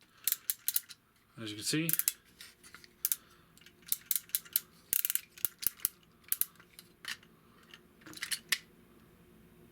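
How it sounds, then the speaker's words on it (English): Ratcheting leg joint of an Xtransbots Apollyon transformer toy clicks in quick irregular bursts of sharp plastic ticks, close up, with a brief spoken phrase near the start. "then you got the ratchet up and down. Not a very tight ratchet"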